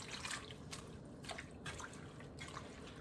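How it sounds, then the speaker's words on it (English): Water drips and trickles off freshly washed leeks draining in a strainer for soup, a series of soft, irregular close patters over a faint background hiss. "I'm going to go ahead and strain these leeks out"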